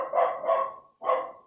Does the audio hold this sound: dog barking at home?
yes